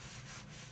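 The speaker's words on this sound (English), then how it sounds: "So I'm just drying this off so it doesn't stick on my wall" A cloth rubbing dry over a spackled patch on a wall, a steady soft scrubbing wipe that continues for under a second, close and fairly quiet.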